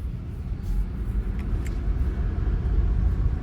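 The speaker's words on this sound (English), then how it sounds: "hopping back in my vehicle and seeing if I can continue up the mountain" A Rivian electric vehicle climbs a mountain road in Colorado toward 14,000 feet, heard as a steady low rumble of tyres and road noise from inside the cabin, continuous and moderately loud with no speech.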